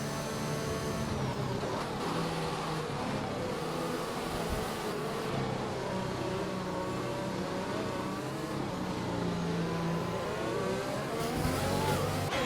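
Race cars at Spa-Francorchamps roar away from the green flag start, a dense, loud wall of engines droning and revving together with rising and falling pitches throughout.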